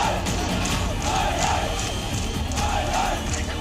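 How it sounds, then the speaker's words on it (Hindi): An angry crowd shouts slogans outside a police station, a dense, continuous roar of many voices with rising chants, loud and sustained. "उग्र भीड़ ने थाने का घेराव किया, जमकर नारे लगाए"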